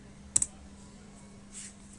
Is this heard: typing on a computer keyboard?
yes